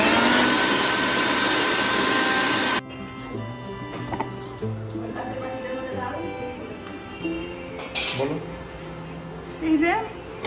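A blender grinds green chili, lemon juice, salt and mustard oil into a paste with a loud, steady, whirring roar for about three seconds, then cuts off, leaving quieter, irregular kitchen sounds.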